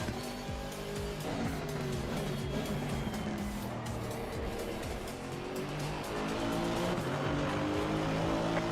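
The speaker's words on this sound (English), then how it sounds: "There's a car leaving the pit lane." A race car pulls out of the pit lane at Kyalami in Assetto Corsa Competizione, its engine whining and revving through gear changes, with a steady roar and occasional tire noise building slightly toward the end.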